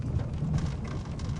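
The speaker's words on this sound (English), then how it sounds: "This storm." Rain falling steadily during a mountain thunderstorm, a soft continuous patter with a low rumbling undertone, faint and unbroken for a moment with no voices.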